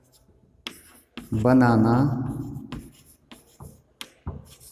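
A pen scratches across paper in short strokes during a Class 6 ratio and proportion maths lesson, with a voice speaking over the middle stretch.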